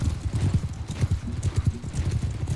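Hoofbeats of a slow horse galloping in Mount and Blade II Bannerlord, a steady rapid clip-clop rhythm close by with an occasional faint whinny.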